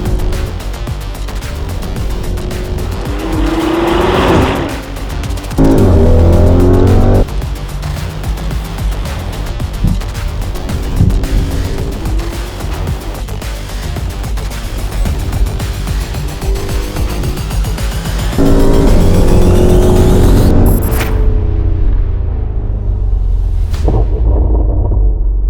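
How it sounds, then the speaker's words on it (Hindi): An Audi RS Q8 accelerates hard around the Top Gear track, a deep, sustained roaring rumble that surges through several shifts in engine pitch before cutting off abruptly near the end. "the RS Q8 takes off because the power is humongous"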